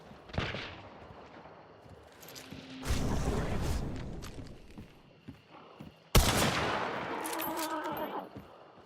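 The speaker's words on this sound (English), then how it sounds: "Yeah, that's a sniper." Gunfire in a shooter video game, a sniper rifle among it: several loud, sharp bursts of shots with clattering echoes, the heaviest crack arriving near the end over ongoing action noise.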